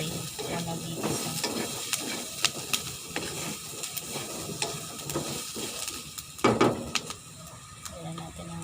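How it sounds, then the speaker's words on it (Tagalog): Meat going into a pan with a little cooking oil for chicken pininyahang manok sa gata, sizzling and crackling up close while a utensil stirs and scrapes in irregular bursts, with a brief louder clatter near the end. "Konti lang talaga ang nilagay ng mantika. Pag nag-saute o nag-igisa."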